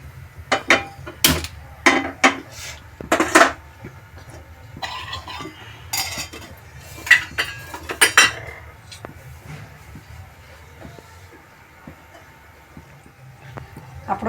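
A metal cooking pan clinks and knocks several times as oil is set on to heat in a home kitchen making pav bhaji, sharp close taps scattered over a low hum.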